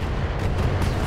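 A missile explosion in the mech combat game Battletech, a dense, loud roaring blast that fills the whole short moment with rumbling, crackling noise and no break.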